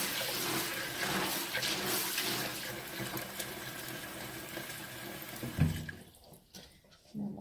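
Tap water runs into a jar of dry beans being rinsed for canning, a steady splashing hiss that sloshes briefly near the end before tapering off, with faint background sounds.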